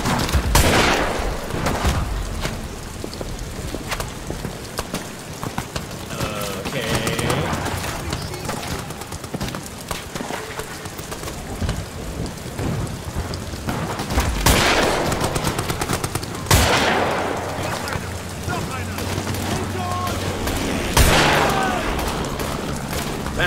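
Scattered World War I gunfire from a trench battle in the horror game Amnesia: The Bunker: sharp shots and bursts recur every few seconds over a constant rumbling din, with bird-like chirps and bits of voice in the mix.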